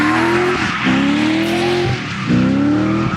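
An LS2-swapped 1989 BMW 325 with a four-clutch limited-slip rear and an angle kit drifts at Summit Point. A loud V8 rises in repeated revving pulls over steady tire squeal, with no talk.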